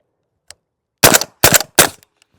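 Three suppressed rounds from a PSA JAKL 300 Blackout wearing a Dead Air Wolfman suppressor, loud, close, sharp reports in quick succession, preceded by a faint click.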